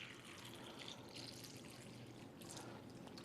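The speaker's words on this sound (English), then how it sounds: "we're just going to simulate that by pouring some tap water in here" Tap water poured into a container, a steady close splashing pour that runs without a break for a few seconds, with no talking.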